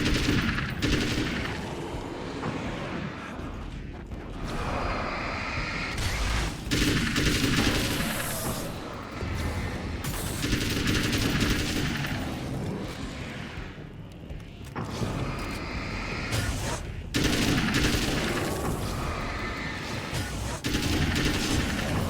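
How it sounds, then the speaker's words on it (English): Assault rifle fire in the game Alan Wake's American Nightmare, loud sustained automatic bursts repeating in several long volleys with short pauses between, mixed with booms and action effects. "I'm a fan of this assault rifle. It is working for us."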